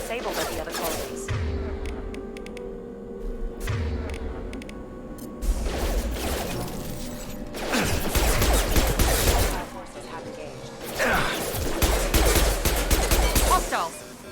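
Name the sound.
colony defence systems firing in the video game Mass Effect 2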